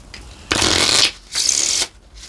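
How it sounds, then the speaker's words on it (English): Tarot cards being shuffled up close, two loud rushing riffle bursts of about half a second each, separated by a short gap, with no voice over them. "I'm going to pull some more of my cards."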